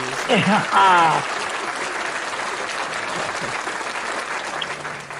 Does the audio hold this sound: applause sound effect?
yes